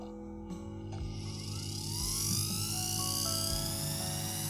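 A Vevor flex shaft carving tool's motor runs forwards, a high whining drone that rises in pitch as it spins up, with a few low knocks underneath and no speech.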